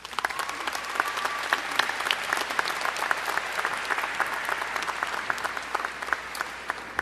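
A college commencement audience at Monroe Community College applauds to welcome speaker George Moses, producing sustained, dense clapping from a crowd that holds steady at close range with no talking.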